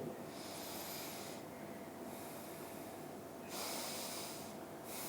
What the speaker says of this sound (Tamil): மெதுவாக மூச்சை உள்ளழுங்க, மெதுவாக மூச்சு வெளியிடுங்க.